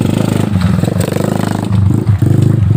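A motorcycle on a muddy alternative road near Gumitir revs with a steady pulsing engine note and slips in the mud, with scraping clatter, loud and close.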